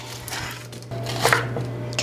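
A knife cuts a yellow onion into thirds on a board, a few short chopping knocks and taps over a low steady hum.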